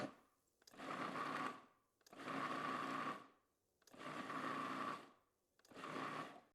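A blender pulsing tomato jalapeno salsa with the lid on runs in four loud bursts of about a second each, separated by short silent gaps. No one talks over it.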